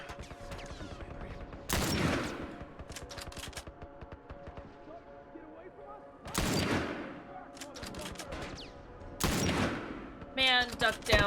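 Gunfire in the video game The Last of Us sounds as three separate loud blasts, each with a reverberant tail, spaced a few seconds apart over a background of game ambience.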